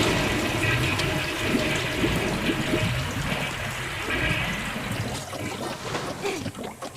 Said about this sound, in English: we have to step on this switch to raise the water level so we can get up there